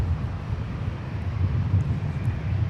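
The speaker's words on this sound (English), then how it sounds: "this aircraft is owned by Sun Country, chartering for Amazon Prime Air Cargo" A Sun Country jet chartered for Amazon Prime Air Cargo rumbles steadily at Minneapolis–Saint Paul airport, a low continuous engine roar mixed with wind buffeting on the microphone, with no talk.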